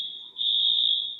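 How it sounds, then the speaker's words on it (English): A fire alarm at Stanford University sounds a steady, piercing high-pitched electronic tone, loud and continuous, with a brief dip before holding at full volume. "It's a fire alarm here at Stanford University"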